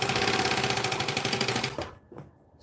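A sewing machine runs steadily through fabric in a fast, even whir with a rhythmic needle patter, then slows and stops, leaving a brief quiet with faint handling noise.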